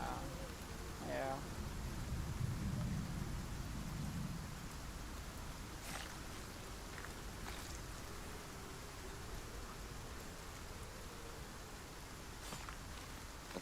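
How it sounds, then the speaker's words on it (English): A thunderstorm in the survival game Icarus, with steady rain hissing throughout and a low thunder rumble early on, while a few faint sharp sounds cut through the wash. "I want to make sure the storm goes away."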